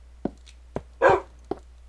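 A Minecraft dog gives short, evenly spaced game barks at a steady rhythm, with one longer, louder yelp in the middle, set against a faint low hum.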